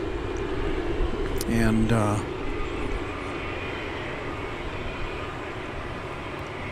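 An American Airlines jet taking off at night from DFW Airport, bound for Louisville, with steady broadband engine roar throughout and a brief voice speaking over it.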